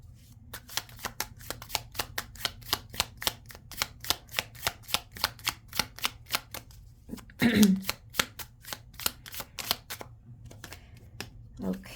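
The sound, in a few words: shuffling affirmation cards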